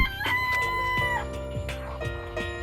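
A chicken in the video game Danganronpa gives a drawn-out crow followed by short clucks, heard over a steady game music background, fairly close and moderately loud, with no talking.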